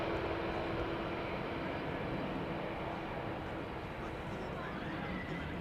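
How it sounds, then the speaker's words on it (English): AirACT cargo Boeing 747 landing at Schiphol Airport, a faint, distant, steady jet rumble with a soft hiss, continuous throughout with a low-level broadband wash. "I think this is a channel premiere, seeing this 747 in this livery land here"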